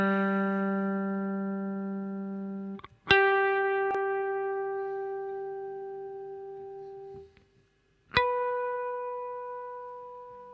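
A single guitar's G string plucked and left ringing as a tuning reference, the note sounding alone and clearly, then plucked again twice more, each ring decaying slowly.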